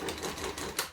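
A sewing machine back stitches a large bag, giving a steady, fast mechanical clatter of the needle with a few rhythmic surges, close and moderately quiet.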